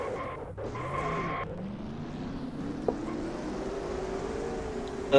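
Race car engines roar in a stock car racing video game at Daytona, a rising, steady drone that climbs in pitch as the cars pull away, with a brief tonal sweep at the start and a sharp tick near the middle.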